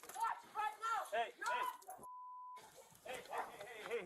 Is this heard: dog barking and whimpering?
yes